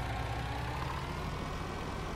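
A MAN truck engine idles in Farming Simulator 19, giving a steady, dense low diesel rumble that stays even and continuous throughout, with no talking.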